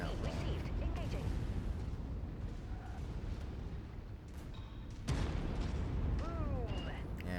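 Jaeger mech blowing up during a MechWarrior-style battle on Kentares, rumbling blasts and heavy booms with metallic game effects, moderately loud, with a second burst halfway through.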